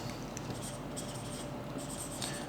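A marker or chalk scratches and squeaks across a board during a chemistry lesson, producing continuous close strokes with short, higher squeaks in an irregular writing rhythm.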